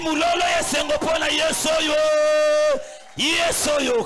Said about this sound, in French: Vous sont les cris de joie pour ce Jésus